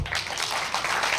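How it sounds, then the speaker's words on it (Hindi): An audience at a business seminar claps throughout, a steady wash of applause from many hands at moderate loudness with no break. "खुद के लिए जोरदार ताली होनी चाहिए"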